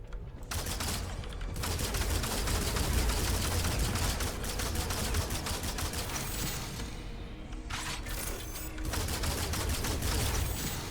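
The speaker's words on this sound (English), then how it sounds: "I was shooting him in the head and everything" Rapid automatic gunfire from the video game Halo, dense sustained bursts of shots with brief gaps, loud and continuous throughout with no talking.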